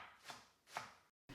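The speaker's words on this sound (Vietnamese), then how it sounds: "Cắt chung hành với ngò cho thơm và có độ nhuyễn đều" A knife chops through a pile of scallions and cilantro for chicken pho, giving two soft, separate strokes on a board close by. A short silence follows before the next sound starts.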